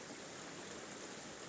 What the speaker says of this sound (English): A nice chilly river crossing.